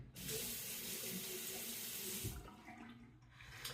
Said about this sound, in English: Now I'll wet the razor.